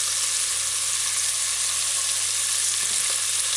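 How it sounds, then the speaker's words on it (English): Ham pieces fry in a pan on a medium-low stove, a loud, steady, dense sizzle with no speech. "Make sure it's placed down evenly at the bottom of the pan, and each piece have its own little space to fry"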